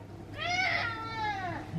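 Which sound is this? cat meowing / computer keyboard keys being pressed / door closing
cat meowing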